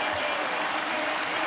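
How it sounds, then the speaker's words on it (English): A packed stadium crowd at an AFL State of Origin bushfire appeal match applauds as police, defence forces and fire services walk out, a dense, steady roar of clapping and cheering filling the whole stretch. "Listen to the crowd, Bruce, as everyone stands as one."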